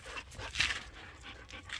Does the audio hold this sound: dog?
yes